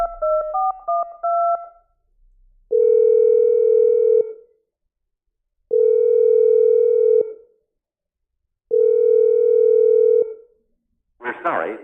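A telephone line plays a quick burst of keypad dialing beeps, then three long, loud, steady tones separated by silent gaps, ending in a short noisy burst.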